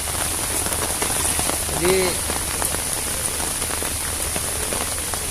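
Rain falls steadily during a flood, a close, continuous patter on surfaces, with one brief word spoken and a faint high whine above it.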